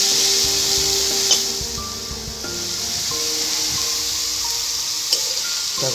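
Crushed onions fry in a pan for a fish curry with a steady soft sizzle and hiss. Occasional small clicks and pops sound as they are stirred, and a faint tonal hum runs in the background. No voices.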